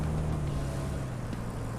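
Steady low diesel engine drone from a heavy construction vehicle in the road-building game Roadcraft, idling or labouring in low gear while stuck on a piece of metal, loud and continuous throughout.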